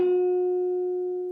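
An electric guitar note played on the third string, fretted at the 11th fret and bent a half step up to the 12th fret pitch, rings as a steady sustained tone that slowly decays, heard alone.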